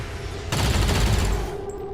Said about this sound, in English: People are shooting a bit weakly.